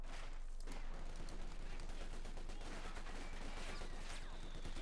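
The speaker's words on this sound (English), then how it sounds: "And there you go, Panzergrenadiers firing there for Luke." Panzergrenadier infantry gunfire in the video game Company of Heroes 2, faint rapid bursts of rifle and machine-gun fire crackling continuously over a distant battlefield.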